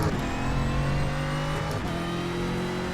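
Toyota Corolla Brazilian stock car in iRacing, its engine loud and close at high revs, pitch holding then dropping through a gear change and climbing again, with a brief dip and recovery, no talking.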